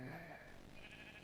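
A single short sheep bleat from Minecraft, wavering and nasal, heard near and clear over faint background game ambience.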